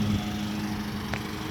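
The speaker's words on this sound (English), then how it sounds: "And then I'm mowing with that rider that's over there." A riding lawn mower engine drones steadily through tall weeds at an old Victorian house, a constant low hum with a faint tonal whine and one brief click.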